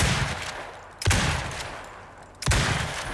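Rifle gunfire in the survival game Icarus, fired with explosive ammo during a scorpion hunt: three loud, sharp shots spaced about a second and a half apart, each followed by a fading rumble, with no talking.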